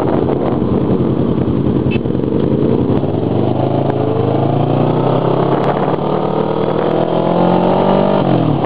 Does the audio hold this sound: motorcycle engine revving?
yes